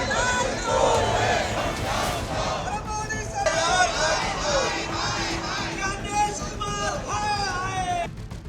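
A large crowd of supporters at a Rahul Gandhi rally in Bihar during his yatra, loud chanting and shouting voices massed together in a dense, continuous roar close by.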